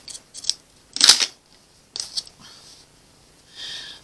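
Scissors snip through quilt binding fabric in a few short crisp bursts, with quieter rustling of the cloth between cuts, close and fairly loud.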